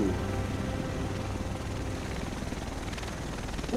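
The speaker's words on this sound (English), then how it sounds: "The rest of us should be in this chopper." Helicopter in the video game The Division arriving in Manhattan, a steady loud rotor and engine roar filling the scene with a broad low thumping rumble throughout, no voices.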